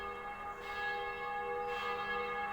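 A church bell in the video game The Black Mirror rings the seven o'clock hour with two resonant strikes about a second apart, each one lingering over a soft ambient hum.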